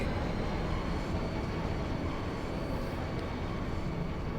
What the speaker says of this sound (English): This train, bound for Delling City, will be departing shortly.